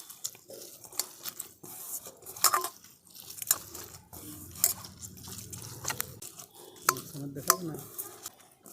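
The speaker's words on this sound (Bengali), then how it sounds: "প্রথমে শুধু মোচাটাকেই আমি একটু হাত দিয়ে মেখে নিই।" Cooked, cooled banana flower (mocha) being kneaded and mixed by hand for a prawn paturi, giving soft wet squelches and light clicks that come and go irregularly, close and fairly quiet, with no talking.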